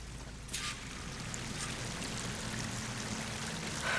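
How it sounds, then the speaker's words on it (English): A waterfall in the game Horizon Forbidden West, a constant rushing wash of falling water heard from a distance, steady throughout with a couple of faint splashes. "That waterfall must be coming from somewhere."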